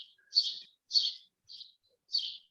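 Four bright, high bird chirps sound alone, spaced roughly half a second apart, clear and fairly close against silence.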